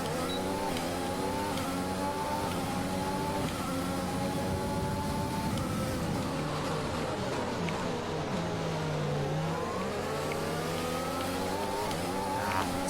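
A Formula 1 car in a racing video game spins its wheels exiting turn 1 at the Belgian Grand Prix, its engine a loud, steady high-pitched whine with rising and falling pitch and a tire squeal, continuous throughout.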